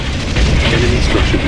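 A structure blowing up in the real-time strategy game Ground Control, a loud, sustained rumbling blast with crackling debris across the full range, continuous and dense.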